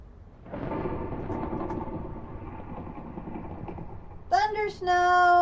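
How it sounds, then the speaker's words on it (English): Thunder rumbling through a snowstorm in a video game: a broad, sustained roar that holds steady for several seconds, then gives way to bright tonal game sounds near the end. "Thunder snow."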